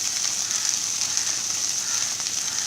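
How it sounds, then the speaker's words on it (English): Okra frying in a pan over a medium flame gives a steady, dense sizzle with a constant bright hiss and faint crackles, close and even throughout, with no talking. "frying this okra"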